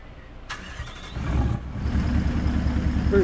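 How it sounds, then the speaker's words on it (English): A Kenworth W900 truck engine in American Truck Simulator cranks briefly, catches, then settles into a loud, steady, rumbling idle. No voices. "Pretty decent engine."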